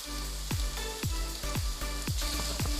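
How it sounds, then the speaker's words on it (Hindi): Minced meat keema sizzles in a pan, a steady frying hiss punctuated by regular stirring scrapes about every half second, close and alone. "जब तक हमारा कीमा कुक हो रहा है"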